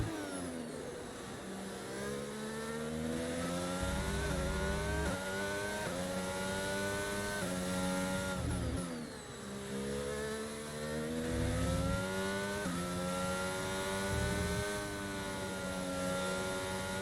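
A Formula 1 car engine in the F1 22 racing game at Barcelona, screaming at high revs as it climbs through the gears. Rapid upshifts and brief dips for downshifts through corners, loud and continuous, with no talk.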